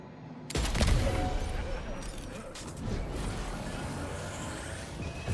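Rifle gunfire in Death Stranding 2 opens with a sharp burst followed by rattling mechanical clatter and scattered impacts, with a further shot later on.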